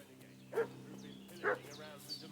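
A dog gives three short barks at a distance in Kingdom Come Deliverance 2, spaced about a second apart over a quiet background.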